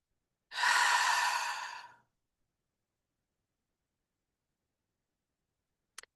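A single long, deep breath drawn close and clearly for about a second and a half in a calm, quiet setting, followed by silence and a tiny click at the end.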